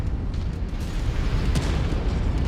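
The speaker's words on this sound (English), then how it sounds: "the shake of the orbital cannon threw my aim off" An orbital cannon blast in the MechWarrior 5 video game booms as a sustained, heavy rumbling roar, loud and dense throughout with no clear start or end, no talking.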